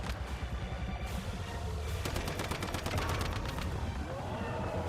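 Rapid rattle of weapon fire in the survival shooter Once Human, a steady run of shots in the middle of the stretch over a rumbling game background, with a voice talking now and then.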